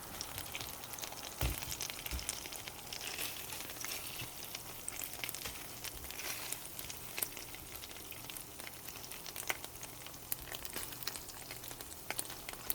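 Meat sizzles and fries steadily in a pan, a dense continuous crackle with occasional soft knocks as pieces are flipped; no voices.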